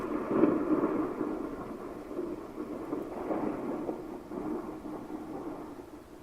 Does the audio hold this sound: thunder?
yes